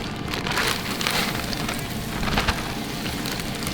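Beef cubes sear in hot vegetable oil inside a preheated cast iron Dutch oven, giving a loud, steady crackling sizzle that runs throughout with no talk.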